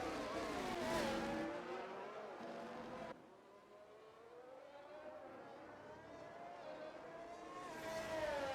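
Formula 1 race cars in a racing video game pull out onto the track at the Italian Grand Prix, a steady whining engine drone with rising and falling pitch that dips briefly midway, then swells louder again.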